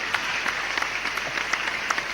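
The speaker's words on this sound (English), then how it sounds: "give a big round of applause" Steady applause from a school annual day audience, a continuous patter of clapping hands with a few sharper claps standing out.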